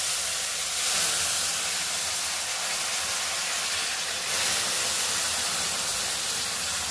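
Pineapple pieces hitting roasted semolina in a hot pan for pineapple sheera, a continuous loud sizzling hiss that holds steady throughout with no talk.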